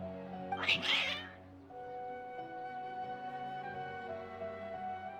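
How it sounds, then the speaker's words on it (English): Worked-up cats in Genshin Impact let out a loud, strained meow near the start, over a sustained musical score that carries on alone afterward. "Your cats seem pretty worked up."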